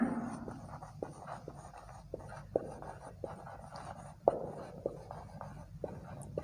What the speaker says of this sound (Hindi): जैसे एग्जांपल मैं लिख देता हूँ इधर